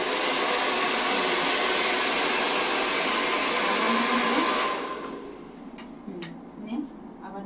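Electric hair clipper buzzing during student haircut practice, a steady loud whir that drops off partway through as a voice speaks over the quieter tail.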